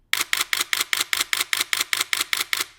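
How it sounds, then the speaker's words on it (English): Nikon D3X camera shutter firing in a rapid burst at 5 frames per second, about fourteen crisp, evenly spaced mechanical clacks heard up close with no talk. "I love the shutter noise on these cameras. I mean, wow, listen to that."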